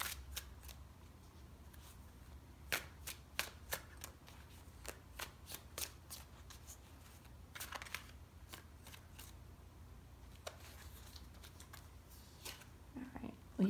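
Tarot cards shuffled and drawn by hand give a run of close, crisp riffling flicks and slaps in uneven bursts, with soft handling rustle between them and a faint hiss under a quiet room.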